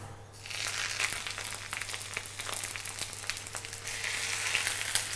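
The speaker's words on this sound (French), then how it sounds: "Et lorsque la poêle est bien chaude, on va y saisir les carrés d'agneau côté persil en premier." Lamb racks sear parsley side down in a hot cast iron pan with olive oil, giving a steady close crackling sizzle over a low hum.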